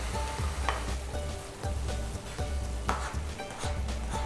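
Chopped tomatoes go into a hot pan of golden browned onions for a dhaba style bhuna chicken, sizzling and frying loudly and steadily with stirring scrapes throughout.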